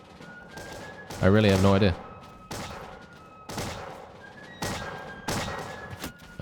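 Musket volley fire in the Bannerlord mod Empires of Europe 1700, with scattered muffled cracks and thuds at irregular intervals across a battlefield while someone talks throughout.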